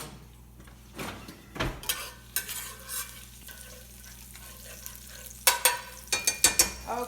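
A whole bulb of garlic frying in a skillet for pasta puttanesca, with a spoon scraping and stirring in several clattering bursts over a soft background sizzle; no one speaks.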